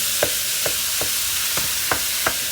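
Ground turkey fries in a pan over high heat with a steady loud sizzle, while a utensil breaks it up in about six scraping strokes.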